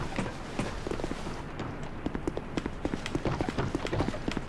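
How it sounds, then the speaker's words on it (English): An enemy's footsteps in Dark Souls 2 thud as a run of repeated irregular impacts, fairly close, over a noisy continuous game ambience. "I heard his footsteps."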